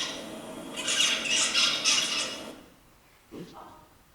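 A juvenile songbird 39 days after hatching gives a raspy, noisy burst of immature song lasting about two seconds over a steady room hiss. A brief faint chirp follows a moment later.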